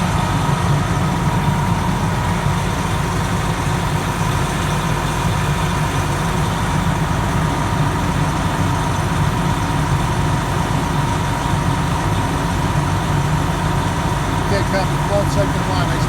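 A fire engine's pump runs steadily while hose lines flow water, giving a loud, constant engine drone with a low rumble and a faint tonal hum, unbroken for the whole stretch.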